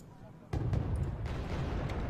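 Glide bombs exploding in the video game Wargame Red Dragon: a sudden loud low boom that stays as a dense, rumbling roar of blasts and debris, with a couple of sharper cracks inside it.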